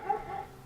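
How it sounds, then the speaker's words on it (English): A dog yips faintly, a few short high whimpering barks drifting in from a neighbor's yard, distant and soft against quiet room ambience. "you got the neighborhood dogs barking while I'm making this video"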